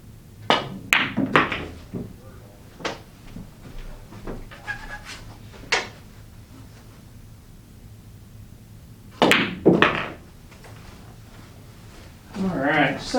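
Sharp clacks of pool balls struck by a cue on a billiard table, a stripes pattern shot aimed at the 13 ball, come in two clusters of several knocks each, close and clear, with talk in between.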